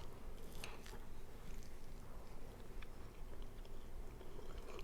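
Someone eating lemon blueberry pancakes topped with powdered sugar and maple syrup, with close, soft, continuous chewing and squishy bites over a steady low background hum.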